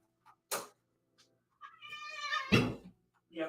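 A pet cat wanting to be let outside meows, a drawn-out rising meow followed by a sharp louder one, with short sounds around it in an otherwise quiet room.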